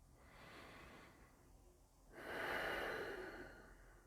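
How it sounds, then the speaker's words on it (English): A person breathes deeply during a yoga class, with a soft, slow inhale followed by a louder, fuller exhale, close and quiet with no talking. "Taking 2 deep breaths in and out."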